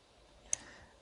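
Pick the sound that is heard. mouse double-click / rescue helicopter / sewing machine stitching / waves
mouse double-click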